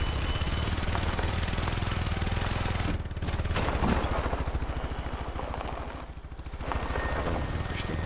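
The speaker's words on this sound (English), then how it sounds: "These quads are supposed to be 400cc quads, and they're going along like little 5-horsepower lawnmowers." The 400cc quad bike engines in the hunting game The Hunter: Call of the Wild chug with a rapid, rough, pulsing rhythm like a small lawnmower. The sound is steady and close, dipping briefly in places.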